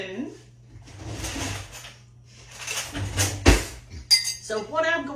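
A small spoon and cutlery clink against dishes as a cup is taken out in a home kitchen, with a sharp clatter and a few light chinks amid a drawer rattle, while a person talks.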